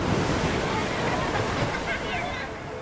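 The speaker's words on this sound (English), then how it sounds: "What you are about to hear is the sound of me drowning" Ocean surf crashes and churns in a rip current, a loud continuous wash of waves and wind buffeting close to the microphone, with faint voices blended into the roar.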